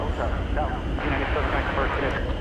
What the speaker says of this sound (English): This is an Airbus A321.